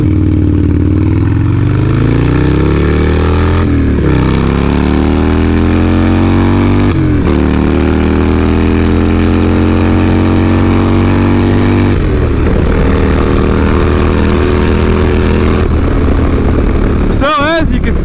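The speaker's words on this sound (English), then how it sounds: "So as you can see, the bike still runs great." Harley-Davidson Dyna Low Rider S engine running loud and close for the whole stretch, a deep steady thrum with several rising and falling revs. Someone talks over part of it.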